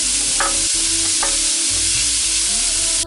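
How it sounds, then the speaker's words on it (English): Minced meat for kheema drops into a hot pan and sizzles loudly and steadily, a broad frying hiss with a couple of soft stirring scrapes, close and without talk until it cuts off. "And now it's time to add the meat."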